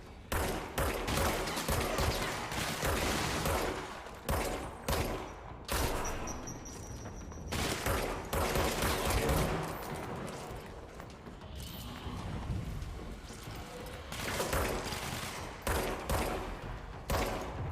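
Rapid bursts of gunfire from a third-person shooter as the player aims for headshots, loud and dense with brief pauses between volleys, alone without talk.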